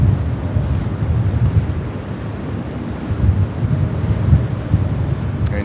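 Strong, gusting wind buffets the microphone by the water at JFK airport, a steady low roar that swells and surges over choppy, whitecapped waves, loud and continuous throughout with no voices.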